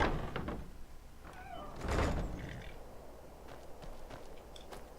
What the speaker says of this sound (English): I just noticed the door makes it kind of a squeaky sound.